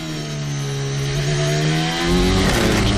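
Max Verstappen's Formula 1 car heard onboard at the 2023 Australian Grand Prix practice as it enters turn 11, with a loud, steady engine whine whose pitch drops under braking and then rises again.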